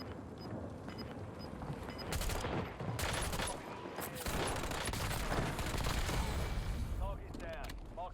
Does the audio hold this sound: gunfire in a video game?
yes